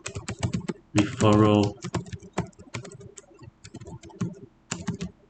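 Rapid clicking of keys on a computer keyboard, irregular bursts of sharp taps that keep going while a person talks over them.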